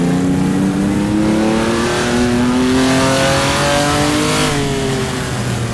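A small Fiat Abarth racing car engine in a driving game set on the Targa Florio road course, buzzing loudly and steadily close up as it revs and shifts pitch, rising then easing back without pause.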